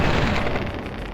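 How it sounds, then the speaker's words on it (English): A single loud gunshot booms in Fallout: Tale of Two Wastelands, a heavy blast with a low rumbling tail that fades over about a second, with no voices. "I'm gonna shoot you in the head."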